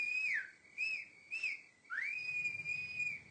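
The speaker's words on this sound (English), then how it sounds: "whistling pitifully from the kitchen door" A man whistles a few clear, rising notes from a kitchen door in a sitcom scene, three short sliding phrases followed by a longer sustained tone, fairly quiet and alone.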